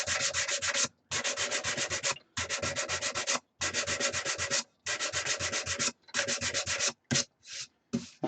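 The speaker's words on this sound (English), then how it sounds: "I've sanded up quite nice now" Wood being sanded on a lathe, a loud continuous rubbing hiss in long bursts of about a second, separated by brief pauses, ending in a few shorter strokes.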